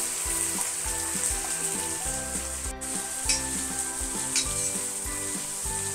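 Onion sizzles steadily in a pan with garlic and green chilli while it is stirred. The frying is close and continuous, with occasional scraping clicks from the stirring and no talk.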